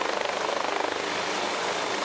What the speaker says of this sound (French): Il s'agit bien d'un hélicoptère, comme vous pouvez le remarquer